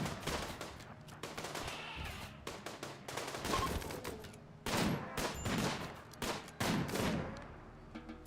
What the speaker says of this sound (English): Our shooting is so bad.